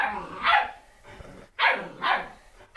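A pet dog named Hershey barks at home, three loud, close barks spaced out over a few seconds, with quieter room noise in between.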